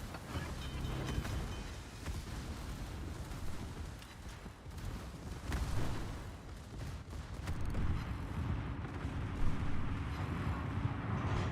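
Naval gunfire in the World of Warships video game, main and secondary guns booming with dense, continuous rumbling blasts and roaring wash, loud and sustained without pauses, with no talking.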